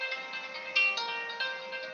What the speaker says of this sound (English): Somebody can mute their phone.